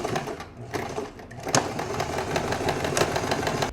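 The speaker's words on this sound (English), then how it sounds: "when you're sewing stretch fabric, you usually don't go for a straight stitch on your machine, but you go for a zigzag stitch" A sewing machine zigzag stitches stretch fabric in a loud, close, continuous mechanical whir with rapid rhythmic clatter, briefly easing off near the start and then running steadily, with no voices.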